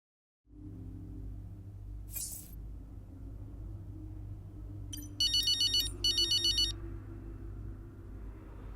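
A phone ringtone in the video game F1 23 trills in two short bursts of rapid electronic beeps over a steady low engine-like hum, with a brief whoosh a few seconds earlier.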